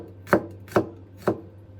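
A knife chops through a single garlic clove on a cutting board, three crisp, evenly spaced strikes close by with nothing else sounding between them.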